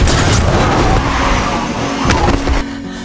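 In a drama, a moving car hits a person with a sudden heavy thud over a steady engine and road rumble, and the engine noise drops off abruptly afterward.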